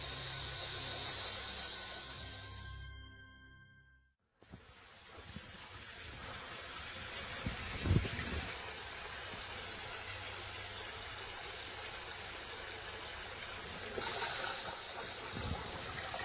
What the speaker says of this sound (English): The energy of flow patterns in water